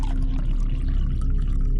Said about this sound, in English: He poured whiskey into a tin cup